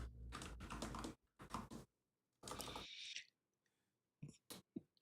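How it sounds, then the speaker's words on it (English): Bursts of clicky typing on a mechanical keyboard, quick irregular key presses in several short runs, close and fairly quiet, with a few isolated clicks near the end and no talking. "You have a clackety clack keyboard."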